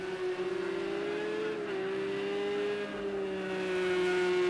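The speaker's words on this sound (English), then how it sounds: "Bringing the car round here at Club Corner." A simulated race car on Xbox rounds Club Corner, a steady, near engine drone holding a sustained tone that dips slightly and climbs again as it exits, with no talking.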